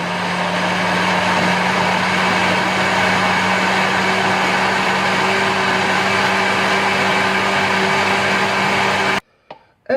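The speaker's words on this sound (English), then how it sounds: "And now it's time to start blitzing!" A kitchen blender runs loud and steady, blitzing gazpacho with sherry and olive oil, a constant motor whine with a low hum that cuts off abruptly near the end, leaving brief quiet and small knocks.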